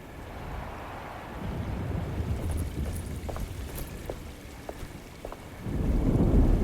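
A storm with rain in the video game Alone in the Dark, rain pattering steadily with scattered sharp drips and a deep rolling rumble building near the end, no voices.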